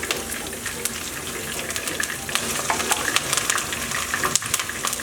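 Seasoning frying in a pan for a saltfish and baked beans dish, a steady crackling sizzle with scattered pops and stirring scrapes, close and continuous.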